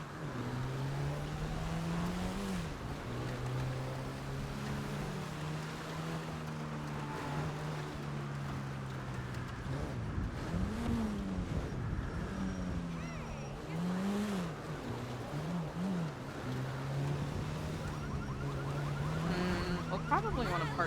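Car driven in a GTA role-play game on a NoPixel server, a steady engine drone rising and falling with revs throughout, with voices talking over it.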